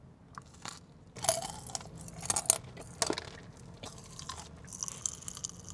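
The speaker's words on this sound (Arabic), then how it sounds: "في شيء عم بطقطق بتمي" Crunchy chocolate bitten and chewed close to the mouth, giving quiet irregular crackling bursts and snaps over a soft background, with no talking.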